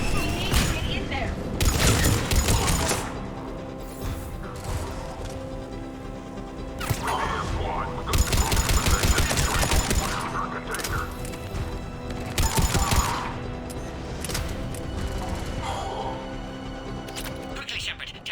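Gunfire from Cerberus troops crackles through a Mass Effect 3 firefight, dense bursts and impacts layered with game music while voices call out over the din.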